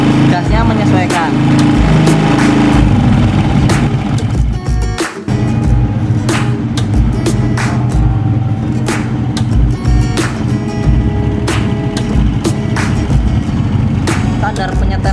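A car engine runs steadily at idle while the throttle is adjusted and set against a tachometer, a loud continuous mechanical drone with ticking and brief dips, close by.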